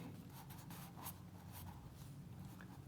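A pen scratches across paper while working through maths exercises, close and quiet, with short irregular strokes and small pauses and no talking.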